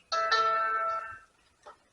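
A mobile phone rings in a workshop beside a 1947 Ford 8N tractor, giving a clear tonal electronic chime that lasts about a second, then a short faint repeat.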